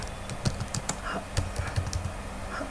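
Typing on a computer keyboard, a quick run of close, crisp key clicks in irregular bursts with short pauses between them, alone without talk.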